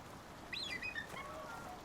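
A Kea bird in the game Icarus gives a short sequence of faint high chirping calls over steady rain-like background noise, with no talk.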